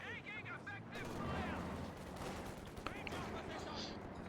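Rattling rifle fire from Obersoldaten infantry in a Company of Heroes 2 battle, steady and mid-distance, with a commentator talking over it throughout.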